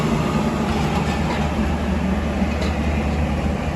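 Passenger train pulling out of Faisalabad railway station on the Shalimar Express, a steady, dense low rumble with constant rolling noise heard from onboard the AC parlour class carriage.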